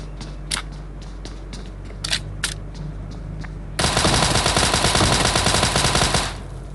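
Rapid sustained bursts of Thompson submachine gun fire in the PUBG battle royale game, loud and dense for a few seconds after some scattered clicks and sharp single pops.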